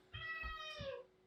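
A cat lets out one long, drawn-out meow for attention, close and clear over soft low thumps and faint kitchen background.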